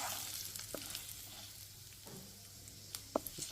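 Tempering spices fry in hot oil in a pan with a steady close sizzle and crackle, plus a few sharper pops and clinks near the end.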